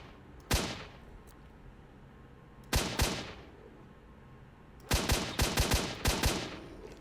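Gunfire in the S.T.A.L.K.E.R. shooter game: sharp, loud shots spaced apart, then a rapid cluster of bursts, each cracking out over quiet background.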